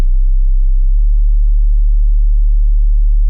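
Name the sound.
sub bass sine tone at C sharp in Ableton Live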